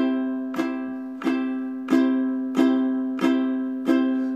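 A ukulele is played with a finger on the third fret of the bottom string, plucking the same clear note six times at an even, unhurried pace, each ringing on and decaying before the next, with no voices.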